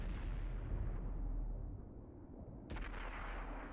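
Video game gunfire in a competitive match: a deep, booming shot rolls out and decays, then a second sharp crack bursts in near the end, fairly loud with no voices over it.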